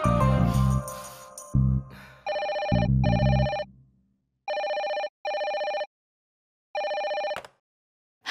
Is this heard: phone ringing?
yes